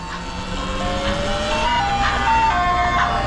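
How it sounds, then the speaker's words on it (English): An ice cream truck on a street in South Central LA plays its tinny chiming melody, a steady sequence of bright musical notes over low traffic rumble and street noise, continuous and fairly close. "Got the ice cream truck too."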